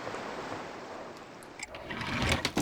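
Steady wash of beach waves and surf in a video game, broad and loud throughout, swelling with a rougher rush near the end.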